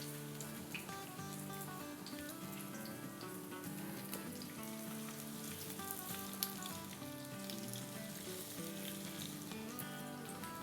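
Chicken pieces frying in about two tablespoons of hot oil in a pan preheated on medium, a steady close sizzle and crackle running throughout under faint background music, no talking.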